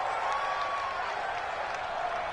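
Stadium crowd roar in a PS4 football video game, a steady dense wash of cheering and clapping-like noise filling the whole moment without pause or clear peaks.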